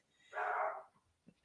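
A small dog gives one short, sharp bark at fairly close range, followed by quiet.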